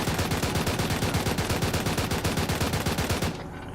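Sustained automatic gunfire in a military simulation game battle with a BTR armored vehicle, a fast, evenly spaced stream of loud rounds that runs for over three seconds, then stops abruptly.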